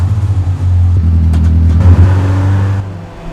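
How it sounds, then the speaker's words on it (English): An off-road vehicle in the Moab, Utah desert starting its motor and revving, a loud, close engine drone that surges and holds before easing off. "Start up the motor again, go ahead."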